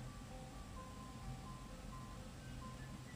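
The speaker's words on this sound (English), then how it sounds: "There's that ice cream truck again." A faint, tinny ice cream truck jingle plays a looping melody of short tonal notes over a soft background hum, from the Homestuck game.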